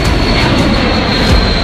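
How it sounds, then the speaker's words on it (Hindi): B-52 nuclear bomber passing over the Black Sea region, a steady broadband engine roar that fills the whole clip with a low rumbling drone and no voices. "जैसे ही ट्रंप के विमानों की आवाज काला सागर में गूंजी"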